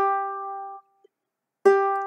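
A single ukulele G string, the fourth string, plucked and left to ring with a clear sustained tone, then plucked again after a short silence. The two notes stand alone with no talking.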